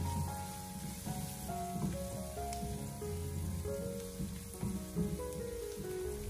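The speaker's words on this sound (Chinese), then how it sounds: "下切好的姜和蒜，用小火给它翻炒一下" Ginger and garlic stir-fried in a wok over low heat, a steady soft sizzle with scraping stirs throughout, mixed with faint tonal background music.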